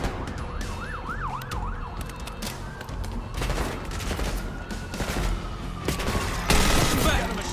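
Machine gun fire in the Call of Duty Black Ops 6 campaign, with sustained loud bursts in a dense battle mix, wailing siren-like tones and sharp impacts building toward the end.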